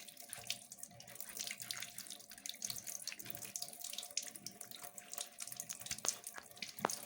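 Running tap water splashes steadily into a sink as sweet potatoes are scrubbed clean of mud, with soft rubbing and a few small knocks under the flow, and no talking.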